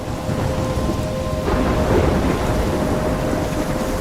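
A thunderstorm in the game Life Is Strange, with dense, steady rain hissing over a deep rolling rumble of thunder, loud and continuous with a faint tonal hum, no talk.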